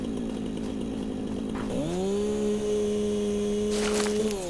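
A chainsaw in the video game Satisfactory runs steadily, a loud close buzzing drone that shifts pitch once as the engine revs, with no talk over it.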